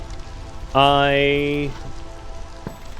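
Hailstorm rain in the video game Against the Storm, a steady hiss under a loud synthetic tonal game sound, with a brief spoken word.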